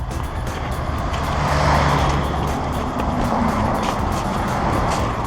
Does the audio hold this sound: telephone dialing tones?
no